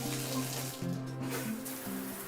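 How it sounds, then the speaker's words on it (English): Steady rush of water pouring from a shower head into a bucket, a continuous close splashing stream with a faint low hum under it, no talk. "The flow from the shower head produced a gallon of water in 16 seconds."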